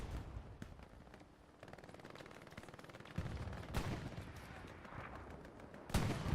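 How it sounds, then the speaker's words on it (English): Battlefield combat in the Hell Let Loose video game rumbles with artillery fire. Bursts of gunfire and heavy booms rise over the low rumble, and sharp blasts land near the end, with faint voices mixed in. "That artillery just taking out the whole"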